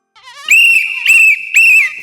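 A woman whistles loudly in three sharp, piercing bursts: a short warbling lead-in, then two more blasts in quick succession, close and alone.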